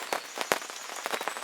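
Rain falling outdoors at Kell Lake fishing venue, Wylands Angling Center, heard as irregular close patters and drips striking a surface, a few sharper taps standing out, no talking.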